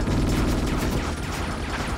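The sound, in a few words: grenade explosion in the video game Ghost in the Shell: Stand Alone Complex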